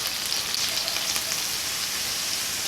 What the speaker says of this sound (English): on the other side, we're gonna start cooking the garlic and the shallots